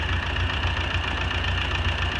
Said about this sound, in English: It took 2 hours to get the tractor started